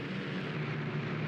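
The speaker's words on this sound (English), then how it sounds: "Now the planes will start coming in." A low, steady drone of aircraft flying in over a battlefield in a tank warfare game set in Tunisia in 1943, holding an even, continuous level throughout with no talk.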